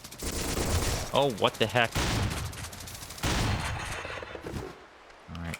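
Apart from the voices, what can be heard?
gunfire from a video game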